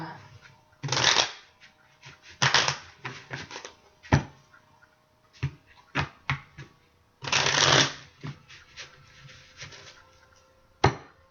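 Tarot cards being shuffled by hand, several loud riffling bursts separated by pauses and single sharp card snaps, close up, with no talk over them.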